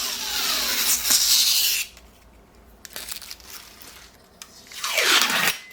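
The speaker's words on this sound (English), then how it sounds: "here's some satisfying peels of the protective layers" Protective film peels off a new Elegoo Mars 3 Ultra 4K resin 3D printer in long, loud, close ripping strips, with pauses between pulls and a final rising tear near the end.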